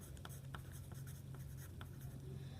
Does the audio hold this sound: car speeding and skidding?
no